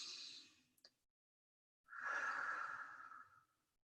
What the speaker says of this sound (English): we're just going to begin with a pursed lips exhale